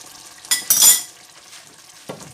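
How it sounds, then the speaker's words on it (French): A spoon stirs Thai red curry chicken with pepper in a pan near the end of cooking, giving two close scraping bursts, a soft sizzle beneath, and one more faint scrape at the end. "On mélange bien pour pas que le poivre reste à un seul endroit."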